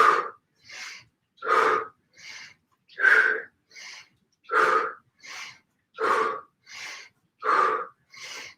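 Rhythmic exercise breathing during a full-body yoga toning workout, with steady alternating inhales and exhales, each breath a breathy burst under a second long, close and distinct with short pauses between.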